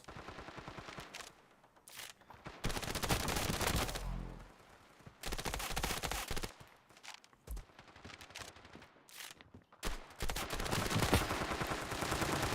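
Rapid bursts of P90 submachine gun fire in the mobile shooter Standoff 2, several loud automatic volleys separated by short pauses and quieter stretches of footsteps.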